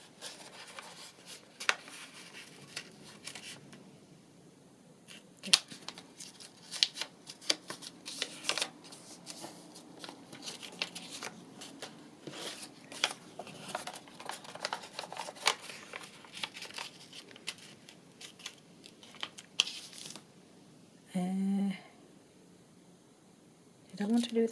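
Paper being folded and creased into a faux library pocket card, a run of close crisp rustles, scrapes and taps with papery crinkling, with someone speaking at times between the handling sounds.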